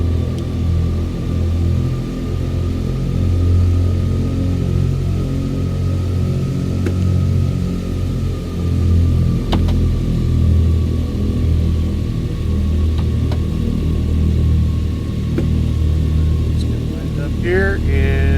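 Twin radial engines of a DC-3 airliner in Microsoft Flight Simulator 2020 drone steadily as they throttle up, a loud continuous low rumble with a faint whine holding throughout.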